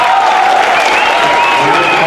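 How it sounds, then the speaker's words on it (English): Team and crowd giving a standing ovation inside a high school gym at a wrestling match, steady loud applause and cheering that fills the whole moment with no break. "an ovation from his team and the crowd here inside Plymouth Regional High School"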